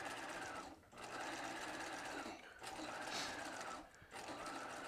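A sewing machine running a second row of stitches while setting in a sleeve, a steady close motor whir in three long bursts separated by brief pauses, with no talk over it.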